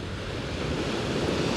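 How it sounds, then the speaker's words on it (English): Sea waves crash on a beach at Potomac Beach in Cyprus, a dense continuous roar of surf with gusty wind rumbling over the microphone, no voices. "listening to the sea crash against the beach here"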